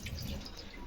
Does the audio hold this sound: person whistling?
no